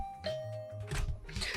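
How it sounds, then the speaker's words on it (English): A dorm room doorbell in the video game The Hundred Line gives a two-tone ding-dong chime, clear and close, over a low background music bed with no talk. "I rang the bell by the side of the door"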